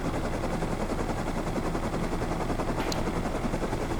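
A helicopter flies in the game Rust with a steady, dense rotor chop and engine drone that never lets up, and no voices over it.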